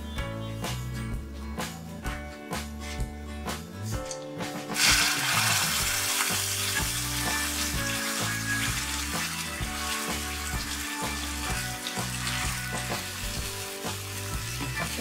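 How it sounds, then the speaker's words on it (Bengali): Gandal leaves are dropped into hot oil with dry chilli and black cumin, setting off a sudden loud sizzle that keeps crackling steadily over a pan, with no talking. "এবার এর মধ্যে গ্যাদাল পাতাটা দিয়ে দিচ্ছি।"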